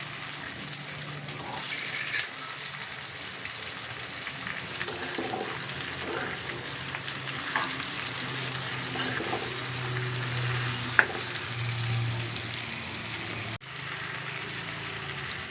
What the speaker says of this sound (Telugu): టమాటా అన్నీ ఉడికేంత వరకు నేను ఉడకనిస్తాను.